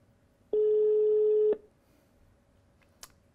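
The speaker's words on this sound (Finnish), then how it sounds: "Puhelin soi." A single telephone ringback tone sounds while a call is placed, a steady electronic tone lasting about one second against a quiet background, followed by a faint brief click.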